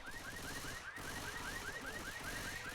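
A car alarm set off by gunfire in a multiplayer zombie shooter match, wailing in a fast repeating rising whoop pattern against steady background game noise, with no voices.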